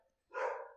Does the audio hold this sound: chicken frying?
no